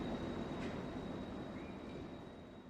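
Steady rumbling train ride in the video game My Dark Eden, a continuous low rolling drone with a faint high whine and a soft brief squeal, moderately quiet and unbroken throughout, no voices.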